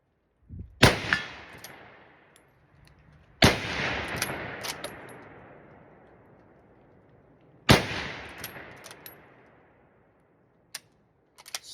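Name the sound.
Enfield SMLE rifle firing and cycling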